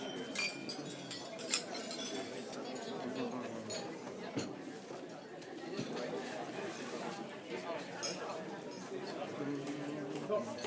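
Guests clink glasses during a wedding toast. The light chimes ring out now and then through a steady room of chatter and murmuring voices.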